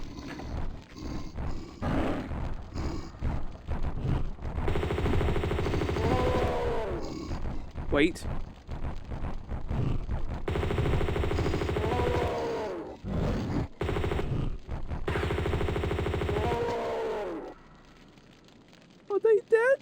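Repeated bursts of gunfire from the video game Tomb Raider 2, mixed with roaring creature sounds and loud clustered bursts, alternating with brief pauses and a person talking briefly.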